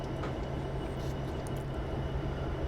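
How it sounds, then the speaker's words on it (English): Union Pacific locomotives 7780 and 5256 in Train Simulator 2020 at Cajon Pass, hauling an auto rack train: a constant low rumble of diesel engines and rolling cars, steady and fairly loud throughout, with faint metallic clanks on top. "UP 7780 and 5256 pulling an auto rack train"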